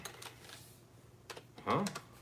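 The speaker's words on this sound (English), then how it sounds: "Is there any way for him to slow this typing down?" Computer keyboard keys clattering in short, quiet bursts, ending in a louder cluster of clicks as a voice briefly comes in over them.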